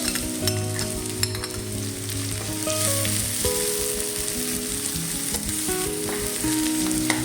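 Garlic and onion sautéing in oil in a pan for a minced beef pasta dish, a constant crackling sizzle with stirring throughout and no voices.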